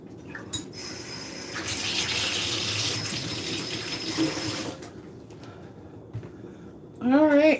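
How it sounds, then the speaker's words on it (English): Tap water runs steadily into a sink as hands are washed under it, a continuous close gush that eases off, with a brief voice at the very end. "All right, let me wash my hands."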